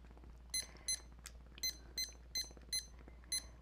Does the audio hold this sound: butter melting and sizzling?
no